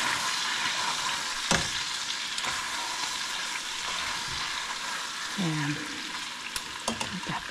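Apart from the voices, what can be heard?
beef frying in a pan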